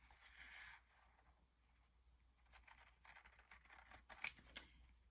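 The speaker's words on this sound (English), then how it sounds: "to cut out the stamps, and I use a very sharp pair of pinking shears" Sharp pinking shears cut close around fabric stamps, leaving a border. Soft, quiet snipping and fabric rustle run through the clip, with two crisp, brief clicks of the blades near the end.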